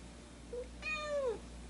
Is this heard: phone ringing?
no